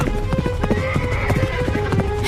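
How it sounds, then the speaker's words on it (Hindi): A horse's hooves clip-clop in a steady, quick rhythm as a rider approaches in a cartoon town scene, the beats fairly loud and close over a low background hum. "तभी वहाँ पर घोड़े पर एक युवक आ पहुंचा"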